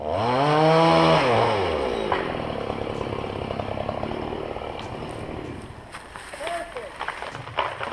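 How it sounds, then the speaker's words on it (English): A chainsaw cutting trees revs loudly at first, its pitch rising and falling, then drops to a lower idle as crackling and rustling follow. "A YouTuber named Justin Gansberg is sawing trees with his crew when he notices one starts to wobble his way."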